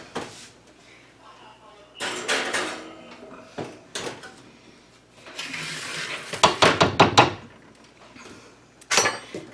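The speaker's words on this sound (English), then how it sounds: "I'm going to put this in the oven" A baked clam dip dish goes into a 350-degree oven amid kitchen clatter: scattered clanks of cookware, a rack sliding and a door thudding, with bursts of rattling metal under intermittent talk.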